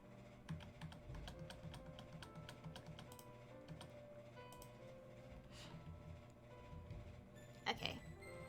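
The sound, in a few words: computer keyboard typing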